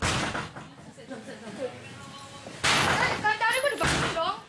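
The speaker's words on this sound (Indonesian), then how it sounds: "petugas kepolisian langsung mendobrak pintu satu di antara kamar di rumah warga" Police forcing open a bedroom door in a house at the forest edge during a raid, loud heavy slams and crashes in the latter half amid excited voices and shouting.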